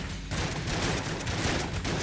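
Enemy spore bullets fire in rapid bursts in the Enter the Gungeon video game, a loud, dense, continuous volley of gunfire sounds with no voice over it.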